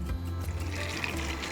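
Half a cup of water poured for homemade non-toxic floor cleaner, a soft, steady liquid splash and fill sound close by with no talk.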